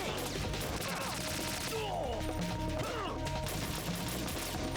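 Dense, loud gunfire and impact crashes in the stealth action video game Metal Gear Solid 2, sustained throughout over game music and sound effects.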